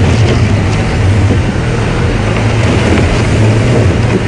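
Safari vehicle moving on a drive at Djuma Game Reserve, a loud, steady rumbling engine with wind buffeting close to the microphone throughout.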